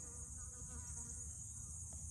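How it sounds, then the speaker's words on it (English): A bee buzzes outdoors as a steady, low droning hum that holds through the whole moment, fairly faint, with no talking. "You hear that bee?"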